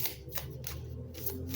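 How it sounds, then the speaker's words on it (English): Tarot cards shuffled by hand in a steady series of close, papery riffles and flicks, with no talk. "Let me shuffle these up again."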